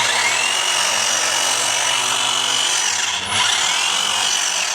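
A Givilo 20-inch cordless hedge trimmer buzzes continuously at close range as its blades cut through a bush, a steady high-pitched whirring with a brief dip when the load changes.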